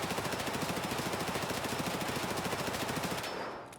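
An MP5 submachine gun fires full auto in Escape from Tarkov, one unbroken rapid burst of closely spaced shots lasting several seconds, loud and near, then stopping abruptly with a brief tail.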